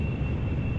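Rocket motors lighting on a suborbital flight at 13 kilometres, a loud steady roar with a thin high whine running through it, continuous for the whole short moment.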